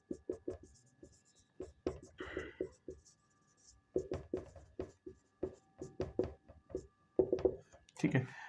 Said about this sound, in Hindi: ये थोड़ा सा मैं साफ करके लिख देता हूँ इसको दोबारा से